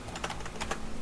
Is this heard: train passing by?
no